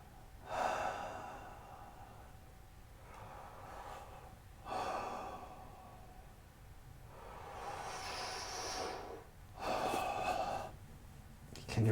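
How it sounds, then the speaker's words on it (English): Slow, deep breaths during a yoga child's pose, each inhale and exhale rising and fading in a relaxed rhythm, about four breaths, close and soft. "Taking some deep breaths here and relaxing."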